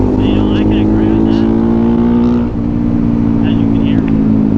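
Honda Grom 125 motorcycle fitted with an AR exhaust, its engine holding a loud, steady, buzzy drone with a brief dip midway before picking back up, close and continuous.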